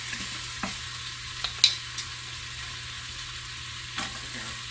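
Chopped garlic and ginger sizzling on one side of a bare Instant Pot during a chicken stir fry, a steady soft frying hiss with a few light clicks and scrapes of stirring.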